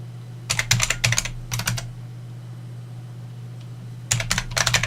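Rapid bursts of typing on a computer keyboard, a few quick clusters of keystrokes separated by a pause, close and clear over a steady low electrical hum, with no talking.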